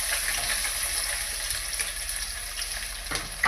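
Onions frying in hot oil for a fish curry, a steady dense sizzle that stays loud and even throughout, with a brief clink toward the end.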